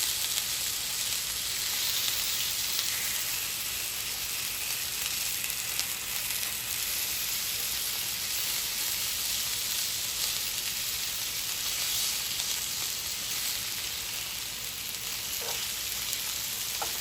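Sausages fry in a pan on a stovetop, a dense steady sizzle with faint crackles and a couple of light clicks, close and even, with no one speaking.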